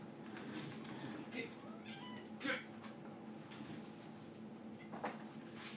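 Cats meow now and then in a room, several short calls spread over a few seconds, moderately close but not loud, against a steady background hum.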